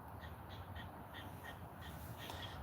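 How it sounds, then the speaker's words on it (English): A crow caws repeatedly outdoors near an RV, a series of distant harsh calls in a steady rhythm over faint background noise. "I could hear a bird"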